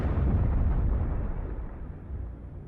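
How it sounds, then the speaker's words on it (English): Asteroid TC3 bursting high in the atmosphere: a deep, rumbling explosive roar that starts loud and slowly fades over a few seconds, alone with no voices. "It begins to break up and then explodes with the force of a small nuclear bomb."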